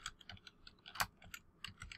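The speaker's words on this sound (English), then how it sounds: "here I'm going to pause so that I can get the typing down" Keys clacking on a computer keyboard in a quiet room, a quick irregular run of soft taps with one sharper strike near the middle, close by and alone.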